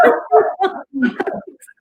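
A dog barks and yips several times in quick irregular bursts, close and loud, with a whimpering edge between barks.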